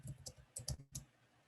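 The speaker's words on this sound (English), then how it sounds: "And then I'm like typing on it." Light, irregular clicks of fingers typing on a computer keyboard, quiet and close, with short pauses between the keystrokes.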